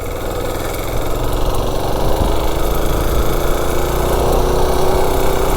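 A gas mini bike engine running on diesel fuel, warmed up and being ridden, drones steadily and loudly throughout with a rising pitch as it revs up.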